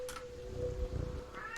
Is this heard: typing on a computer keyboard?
no